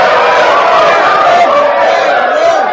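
An audience in a loud crowd roars and cheers together, a sustained, heavy wall of voices with whoops throughout.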